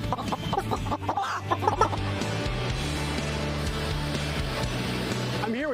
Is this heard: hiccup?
no